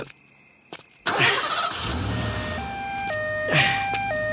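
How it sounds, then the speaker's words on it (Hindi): An engine cranks and catches with a sudden burst, then settles into a low rumble near a city hospital, while a stepped, siren-like electronic tone sounds steadily over it. "पहले गाड़ी स्टार्ट करवा दो"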